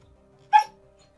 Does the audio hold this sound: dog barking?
yes